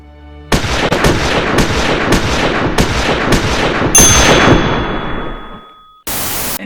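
Gunshots ring out: about six loud booming blasts in regular succession with long decaying echoes, then a harsh burst of static noise after a brief gap.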